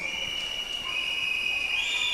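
Shrill whistles sounding over crowd noise at a regional swimming championship pool, a sustained high-pitched tone that rises slightly near the end.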